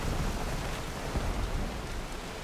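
A thunder and lightning storm in Horizon Forbidden West, heard as a dense, continuous roar of rain-like noise with low rumbling underneath, steady and enveloping, with no voices.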